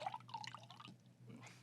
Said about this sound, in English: Hold on, let me pour myself a glass.